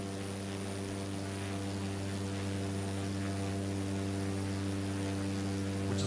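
Cessna Grand Caravan turboprop in Microsoft Flight Simulator 2024 holding a steady, even drone with a strong low hum and propeller buzz, continuous and fairly quiet throughout.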